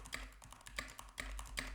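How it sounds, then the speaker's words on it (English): Keystrokes on a Keychron K8 Pro mechanical keyboard, picked up by a microphone on a boom arm: a quick run of crisp, close clicks in small uneven bursts, with no voices. "Typing on the Keychron K8 Pro with the microphone on the boom arm."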